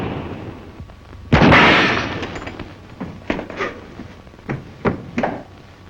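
A single loud gunshot rings out in a western film, followed by several fainter, sharp cracks spaced irregularly over the next few seconds.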